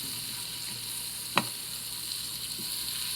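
Two tablespoons of butter melting in a hot pan give a steady, quiet sizzle, broken once by a brief sharp scrape or clink near the middle.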